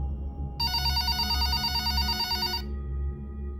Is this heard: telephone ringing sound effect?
yes